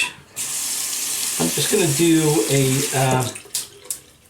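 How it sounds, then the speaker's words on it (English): Tap water runs steadily into a small shaving tub, a continuous close splashing hiss, while someone talks over the middle of the pour before the flow stops. "I'm just going to take this tub and I'm going to fill it with a little water."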